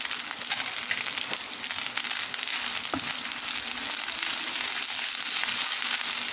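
Fried rice with spring onion frying in a hot pan, a continuous crackling sizzle with occasional spatula scrapes and taps, steady and close throughout with no voices.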